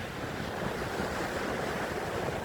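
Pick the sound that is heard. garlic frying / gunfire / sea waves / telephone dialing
sea waves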